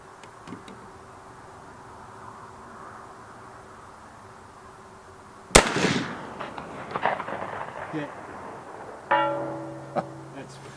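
A single sharp, loud rifle report from an 1874 Shiloh Sharps in 45-70, booming and rolling away into echoes after a quiet stretch, followed by a metallic clink of handling near the end.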